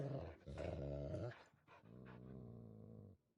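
Dogs growling in The Witcher 3, a low, sustained snarl that swells over about three seconds with brief pauses between rumbling bursts, close and loud with no voices.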